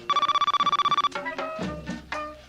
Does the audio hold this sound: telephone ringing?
yes